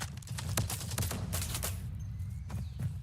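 Bursts of rapid gunfire shot through a wall in Call of Duty Mobile, several sharp volleys spread across a few seconds over a low, steady background hum, moderately quiet, no talking.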